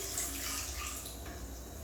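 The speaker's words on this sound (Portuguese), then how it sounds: "eu vou adicionar minha água ao doce" Water pours steadily into a pot of guava paste sweet, a soft continuous splashing stream heard close and fairly quiet, without any voices.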